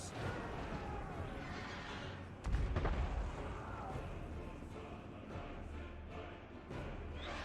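Artillery fire booms in a Total War: Warhammer 2 battle, a heavy impact standing out amid a dense, continuous rumble of battlefield noise, with a voice talking faintly over the din.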